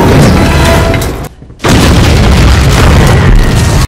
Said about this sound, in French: Manque de bol, la bombe traverse le plancher et...